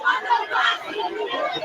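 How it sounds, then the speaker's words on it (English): A jubilant crowd at a live event fills the air with loud, close babble of many voices cheering and chattering together, steady and unbroken throughout. "I cannot use any adjective to describe this kind of crowd here who are in a jubilant mood"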